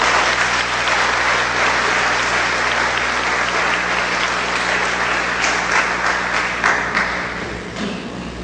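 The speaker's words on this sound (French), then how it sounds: "Je vous prie de l'ovation." Sustained audience applause at a French school's back-to-school ceremony, many hands clapping steadily and densely throughout, tapering slightly near the end, with no talk over it.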